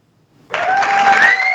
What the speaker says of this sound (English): let's give Mark a round of applause for calling in and leaving a message